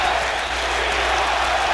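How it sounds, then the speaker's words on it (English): A baseball stadium crowd roars and applauds steadily for Willie McCovey's final at-bat with the Giants, a dense continuous wash of cheering with no break. "And listen to this crowd."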